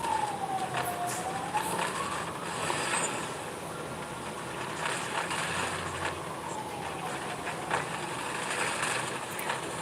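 An ambulance siren wails in a slow rising and falling sweep, passing steadily through a busy, noisy street scene with broadband traffic rumble underneath.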